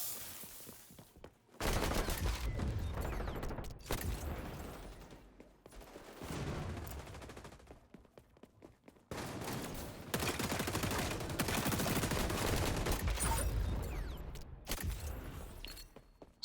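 Gunfire from a weapon in the shooter game XDefiant, sustained bursts of rapid shots in several long stretches separated by brief pauses, loud and close.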